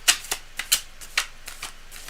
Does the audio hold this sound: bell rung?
no